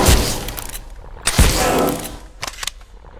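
A creature blows up in the video game Abiotic Factor, heard as two loud, close, percussive detonations with crackling debris tails, then a few smaller sharp bursts near the end.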